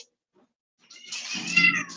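A cat lets out one drawn-out meow, close and fairly loud, rising after a moment of quiet and trailing off, with no one talking.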